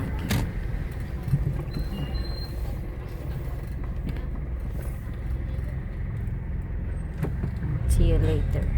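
Car rolling through a supermarket parking lot, a continuous low road and engine rumble with a few faint squeaks and clicks, swelling slightly near the end.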